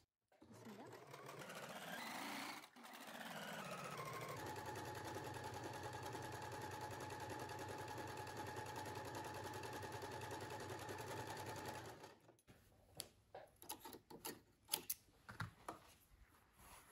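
A sewing machine fitted with an overlock presser foot stitches fabric. It starts slowly, speeds up into a steady, loud whirring run for about ten seconds, then stops, leaving light clicks and handling noises.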